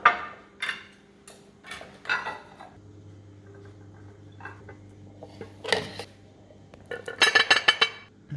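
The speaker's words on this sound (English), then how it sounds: "dish up a serving of mash for each person now first" Mashed potato is served onto plates, giving a run of clinks and taps of a utensil against crockery at close range, growing busier near the end.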